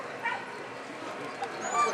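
Puppies, likely young sled dogs on an Alaska trip, whimpering and letting out thin high yips in short bursts beneath continuous nearby talk.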